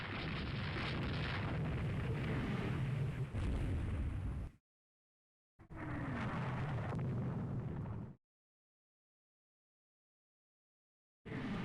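Naval gunfire from warships in the naval strategy game Rule the Waves 3, heavy rumbling booms and bursts filling two loud stretches separated by abrupt silences, dense and close with no talking.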